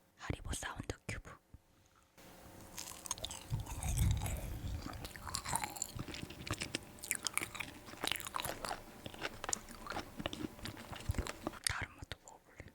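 Frozen square Haribo jelly cubes are chewed right at the mic, with crisp crunching and bursts of biting and mastication under soft whispering throughout.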